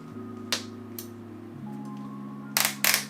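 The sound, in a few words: ratchet clicking on belt gun release mechanism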